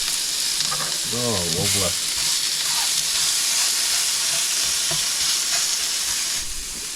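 Meat searing and sizzling in a hot pan inside a VW T4 campervan, a steady loud frying hiss throughout with faint stirring, while a voice briefly speaks over it.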